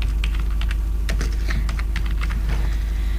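Rapid keystrokes on a computer keyboard while names are entered into an MS Access query, irregular clicking taps close up over a steady low hum.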